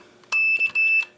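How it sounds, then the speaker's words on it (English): Audible alarm from an RCBS lock-out die mounted on a Dillon XL 650 reloading press: two loud electronic beep bursts, the second following closely after the first, with a faint click before them. "It just gives you an audible alarm"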